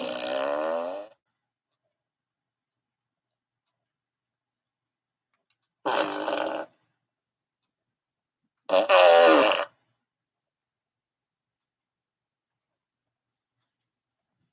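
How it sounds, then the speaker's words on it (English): Three separate fart noises spaced across a quiet stretch, each about a second long, loud and close, the last the longest and most forceful, with silence between them. "So yeah, I'll be farting away."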